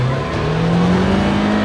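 A 2015 Ford Mustang with an EcoBoost engine holds a steady, loud rev, its throaty engine tone sustained and slightly rising throughout with no voices over it.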